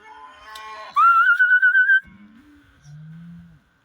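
A person gives a loud warbling whistle to call the cattle in, and then two low, drawn-out moos answer from the herd on a farm.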